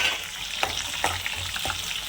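Garlic and cumin sizzle in a small amount of oil in a pan, a steady close frying hiss broken by soft crackling pops.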